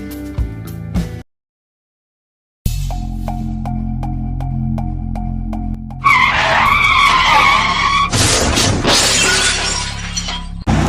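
A car skids with a loud tire screech and then crashes into another car, glass shattering in a sharp burst near the end, following a stretch of steady background music and a brief silent gap.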